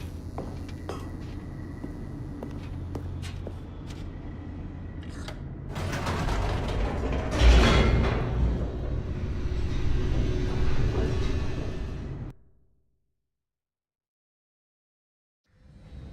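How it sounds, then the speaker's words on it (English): Elevator descending in The Stanley Parable, a steady mechanical rumble with creaks and clanks that swells into a loud grinding rush before cutting abruptly to silence. "The elevator raced downward, plummeting towards an unknown fate"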